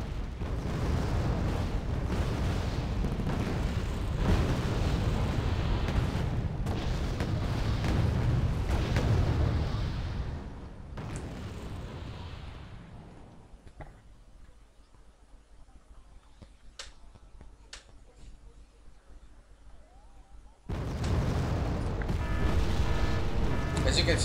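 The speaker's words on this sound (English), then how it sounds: "they have been shelling us for a very long time already, and they have a lot of artillery" Artillery shelling in the Wargame: Red Dragon video game, a dense, roaring barrage of booming explosions that runs for several seconds, fades to a quieter lull with scattered cracks, then surges back loud, with speech mixed in.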